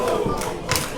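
A wrestler crashes down from the top rope at a Sacrifice Pro wrestling show, a heavy thud landing amid a loud, roaring crowd, followed by a second burst of crowd noise and impact.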